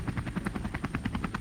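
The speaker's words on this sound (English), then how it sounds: "No, it's a helicopter." Helicopter sound effect landing, a close, loud, rhythmic rotor chop pulsing rapidly and steadily with no talk over it.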